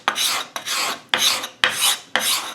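A card scraper is drawn across wood in five repeated rasping strokes, each a bright, breathy scrape raising shavings, with brief pauses between strokes and no talking.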